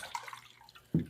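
Tincture drops falling into a small stock bottle while an herbal flower essence is prepared, heard as a single soft drip that lands near the end of an otherwise quiet stretch.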